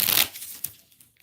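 A deck of playing cards being shuffled, giving one short, dense riffling burst up close, followed by a few faint flicks and taps as the cards settle.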